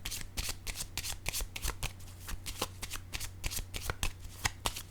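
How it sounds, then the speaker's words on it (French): Tarot cards handled at a reading table: a steady run of quick, crisp papery flicks and slaps, close and fairly quiet, continuing for several seconds with no talking. "Je vais déposer une carte ici pour voir si l'énergie change."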